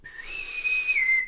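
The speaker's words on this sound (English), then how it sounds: "Has his boatswain's whistle." A bosun's whistle sounds in the Starship Simulator game, a single clear, sustained shrill pipe that rises in pitch, holds steady, then drops slightly before ending, heard alone.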